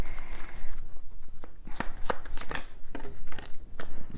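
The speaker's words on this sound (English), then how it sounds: "Your cards are flipping either like in bunches," A deck of tarot cards is shuffled and flipped close by, making rapid papery riffles and crisp flicking snaps in uneven bursts, with no voice over them.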